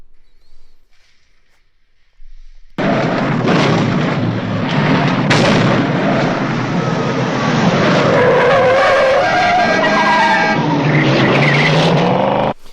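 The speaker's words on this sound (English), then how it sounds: "So the cars get closer to the camera and they start to sound louder" Cars in a film scene's sound effects roar past, growing louder and more intense as they near, with loud engine whine and rushing noise filling the scene after a quiet start.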